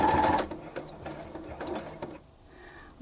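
A sewing machine stitches a fabric cup coaster with a steady, close mechanical whirring that runs for about two seconds, then cuts out, leaving near quiet and a single small click at the end.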